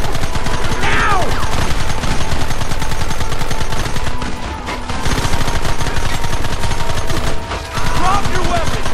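Rapid, continuous gunfire from Red Dead Redemption rattles loudly and close, a dense fusillade of overlapping shots with short lulls, accompanied by occasional ricochet whines.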